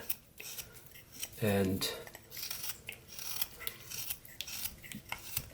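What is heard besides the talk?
whittling knife carving wood with push cuts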